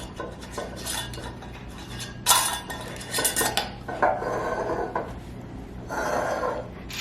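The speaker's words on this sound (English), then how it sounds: "Okay, so I'm putting the lids on and the rings." Glass canning jars of chicken bone broth being fitted with metal lids and screw rings, giving repeated close clinks, taps and scraping metallic rattles in irregular bursts, with no talking.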